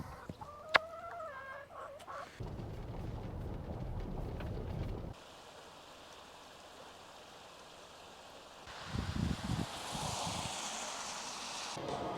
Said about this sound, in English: Oh yeah, chicken.